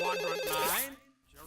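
A cartoon bee's antenna ringing like a phone, a bright electronic melodic ringtone warbling loudly in a repeating pattern before fading off.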